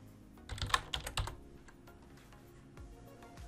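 Quick, close computer keyboard keystrokes come in a brief flurry of clicks, then a few scattered taps trail off into quiet.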